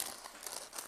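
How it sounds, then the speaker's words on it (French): A sheet of paper laid on top of a biscuit is peeled away, giving a brief, close crinkling rustle that lasts under a second. "La feuille de papier qu'on a posée sur le dessus, on la décolle"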